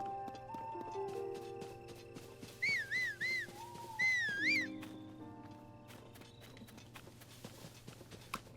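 Horse in the video game The Legend of Zelda: Tears of the Kingdom, with soft hoof clip-clops, bursts of whinnying and whistle-like warbling calls over a low game ambience, moderately loud mid-clip.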